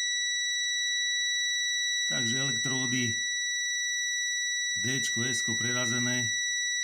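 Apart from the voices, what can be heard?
multimeter beeping while testing transistor electrodes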